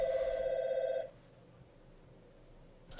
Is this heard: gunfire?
no